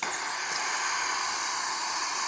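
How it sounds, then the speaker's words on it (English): A Breville espresso machine's steam wand steams with a steady, continuous hiss, loud and even from start to finish with no talking over it. "Nice steady steam coming out through here."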